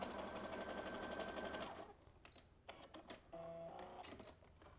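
Sewing machine stitching across the end of a zipper about half an inch from the edge, a loud steady mechanical whir for nearly two seconds, then stopping, followed by quieter handling clicks and rustles.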